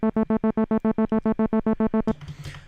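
A Reason Thor synth bass holds an A2 note chopped by a gated filter into fourteen fast, even pulses, then breaks off into a brief noisy tail.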